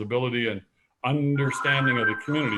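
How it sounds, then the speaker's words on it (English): A telephone rings in the background during a tribal relations committee meeting, its tonal ring running under continuous nearby speech. "Chairman, I apologize for the phone in the background."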